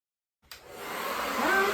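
A hair dryer on its low blower setting switches on after a brief silence and runs steadily, drying curly hair with a broad airy rush that builds slightly and stays close.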